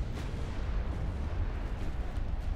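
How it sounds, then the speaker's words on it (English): Heavy booming blast of a warship's ammunition detonating in Ultimate Admiral: Dreadnoughts, a sustained low roar of explosion and rumbling fire lasting a couple of seconds. "Ammo detonation and immediately sinks."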